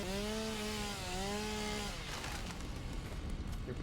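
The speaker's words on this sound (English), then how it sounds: "now I can use my chainsaw." A chainsaw in the game Satisfactory cuts down trees, starting as a steady high whine that wavers and then breaks into rough, noisy grinding, close and loud with no talking.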